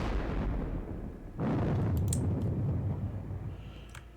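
Artillery fire in a Napoleonic war video game set at the Battle of Friedland: a deep, rumbling cannon boom rolls out over a low, steady background, followed by a few faint distant clicks.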